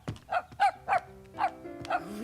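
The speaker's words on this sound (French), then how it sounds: "Il aboie, grand-maman." A small dog barks again and again in a quick, irregular series of sharp, bright yips, close by and clear against a quiet background, with a hum running beneath the later barks.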